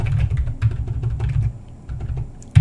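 Steady clatter of keystrokes on a new computer keyboard, close and fairly loud, with irregular fast taps, a brief lull, then a sharp louder key hit at the end; no talking.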